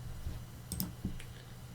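A few sharp mouse clicks and light key taps on a computer while opening a Linux Ubuntu terminal, close and quiet, spaced irregularly over a soft background hiss.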